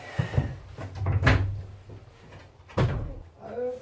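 Doors of a converted bus being pulled shut during an insulation test, giving a few thudding knocks and bangs spaced over a few seconds, close by, with brief talk and movement between them.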